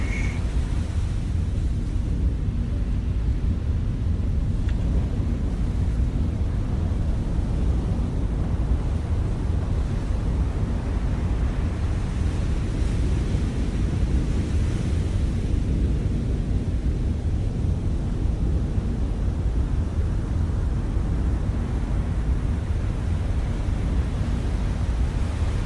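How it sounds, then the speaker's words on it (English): A submarine surges up through the surface in a naval video game, a loud sustained rush of churning water and wind-like roar that fills the whole stretch without pause. "See if I can jump this fish out of the water."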